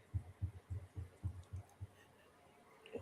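Steady thumping heartbeat, about nine low beats heard close and clear through a voice call at a regular rhythm, then fading out, with no talk over it.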